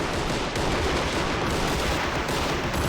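Lewis machine guns firing in the video game Army Men of War, part of a loud, dense, continuous battle din of rattling gunfire with no clear gaps.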